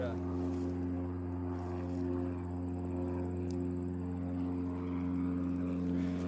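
A propeller airplane flies overhead near an airport, a steady droning buzz with strong low tones that stays constant throughout, close and dominant.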